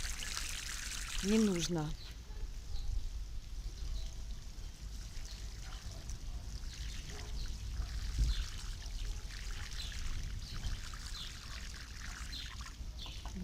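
Plain water poured from a container onto the soil around a Bogatyr raspberry tree, a soft steady trickle that continues throughout, with someone speaking briefly at the start and birds faint in the background.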